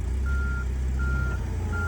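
A fork truck's reversing alarm beeps in steady, evenly spaced tones over a loud, continuous engine rumble, close by, with no talk.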